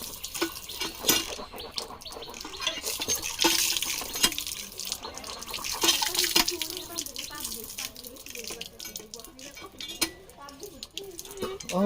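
A tap runs into a sink while someone washes their face, splashing and dripping in uneven bursts close by; voices talk over the water at moments.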